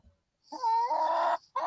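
A barred Plymouth Rock chicken gives a loud, drawn-out clucking squawk up close, followed after a short gap by the start of another call.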